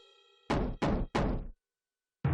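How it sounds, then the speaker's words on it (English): Three loud, close knocks on a door in a cartoon, evenly spaced after a faint tonal hum, followed by a brief pause and the start of another sharp sound. "I'm respecting your privacy by knocking"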